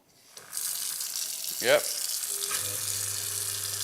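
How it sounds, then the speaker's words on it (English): Water gushes steadily from a kitchen tap into a sink fitted with an InSinkErator food waste disposer, a broad even rush that starts after a moment of quiet and carries on under a brief spoken reply. "press your fun button, turn the water on"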